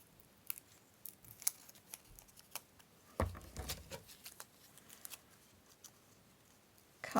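Scissors snip through paper scraps while an ephemera tray is crafted, with a string of sharp little cuts and rustles spread unevenly, with a busier stretch of paper handling midway, close and fairly quiet.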